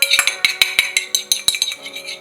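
A utensil stirs a sesame oil and soy sauce marinade for sea trout in a bowl. It gives a quick, rhythmic run of bright clinks against the dish, close and clear.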